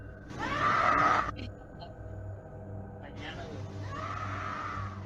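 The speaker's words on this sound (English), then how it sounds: "You can hear a woman scream." A woman screams late at night outside a nightclub, a long, loud, harsh cry with a strained upper edge, then a second, fainter scream or shout a few seconds later over a low background hum.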